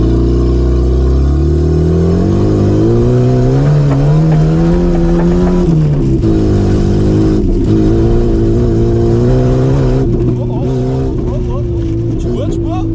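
A cheap project car driven hard, its engine droning loud and close with rising and falling revs through gear changes, under continuous talk from people in the car.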